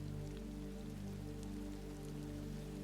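Steady rain falls on a Marrakech street at night, a dense even hiss of drops on hard surfaces with a low constant rumble underneath, unbroken and moderately faint throughout.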